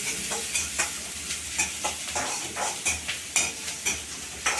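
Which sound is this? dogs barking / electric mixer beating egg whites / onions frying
onions frying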